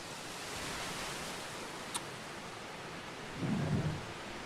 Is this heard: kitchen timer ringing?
no